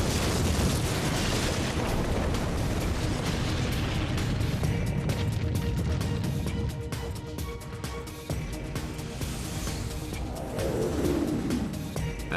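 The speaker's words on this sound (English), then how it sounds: "the earth begins to shake" Great Hanshin earthquake shaking in Kobe, a continuous loud roaring rumble with scattered cracks and bangs, easing slightly partway through before rising again.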